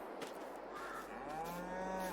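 Cows on a livestock farm in Farming Simulator 22 give a few drawn-out moos. The calls are fairly close and overlap a steady farmyard background, and no one speaks.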